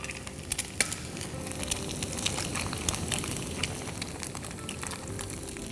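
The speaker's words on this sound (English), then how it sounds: "break the egg directly in the pan over the potato" Eggs cracked into a pan over potatoes for Parsi-style papeta par eeda fry with a steady close sizzle and crackle, small pops and scraping ticks scattered throughout.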